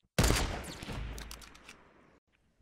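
A single sniper rifle shot in Fortnite, a sudden loud close blast with a long rolling echo that fades over about two seconds, followed by a faint click.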